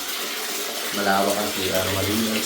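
Strong tap water gushes steadily in a campsite bathroom, a continuous rushing flow close by with someone talking over it in the latter half.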